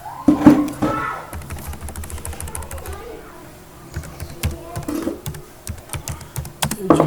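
Rapid keystrokes on a computer keyboard, a few bursts of close tapping with brief pauses between them, no talking.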